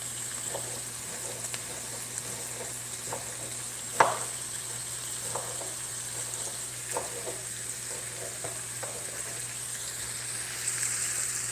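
Onions sizzle gently in a frying pan with a soft, steady hiss and occasional pops and a utensil clink, close by and without talk.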